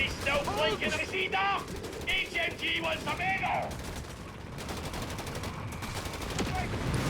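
A howitzer barrage in the game Company of Heroes 3 brings dense, continuous booms and gunfire rumbling under overlapping talk and battle noise, loud and sustained throughout.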